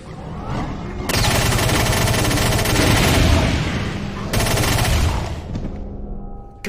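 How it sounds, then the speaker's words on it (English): A chain gun in the Brutal Doom 64 mod roars in two long, rapid-fire bursts, a dense loud stream of shots with a short pause between them, then trailing off. "The chain gun in this mod is actually improved over the one in the original game. It definitely fires faster."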